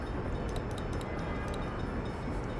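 Freight train rumbling steadily in the Workers & Resources city-building game, hauling coal toward a steel mill, with a sustained low roar and a few light metallic clicks and clanks near the start, no voices.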